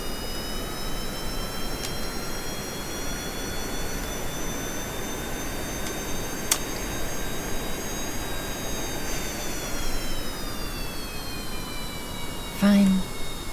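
An airplane's jet engine in Kerbal Space Program roars as a steady, even whine with a droning tone that slowly shifts in pitch, holding at moderate loudness across the whole span with a few faint clicks.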